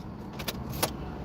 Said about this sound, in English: Now we hear the sounds of the. That's the sound of the streets.